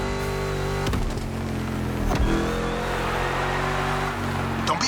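A monster truck engine in The Crew Motorfest racing rumbles steadily and close, with a few sharp clunks and revs over the continuous drone, and a voice faintly underneath.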